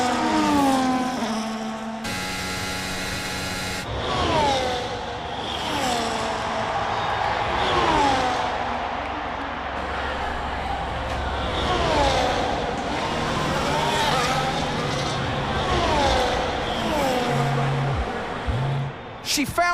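Formula racing cars overtaking on track, engines whining and rising and falling in pitch as they pass one another, with a commentator talking over the engine noise throughout.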